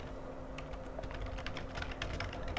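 Rapid, steady keystrokes on a computer keyboard as an email ID is entered on a sign-in page, fairly close and quiet, with a low background hum and no talking.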